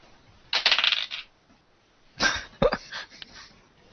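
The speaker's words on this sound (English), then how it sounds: "Let me just correctly roll a dice and see if she does so." Dice rolled for a Deadlands tabletop role-playing game rattle and clatter in two short bursts, the second ending in a couple of sharp clicks as they come to rest nearby.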